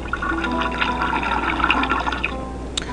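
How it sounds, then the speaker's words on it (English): A toilet flushes in the Ben Jordan adventure game, a steady rushing and gurgling of water with light trickles, faint and alone for about three seconds. "You flush the toilet."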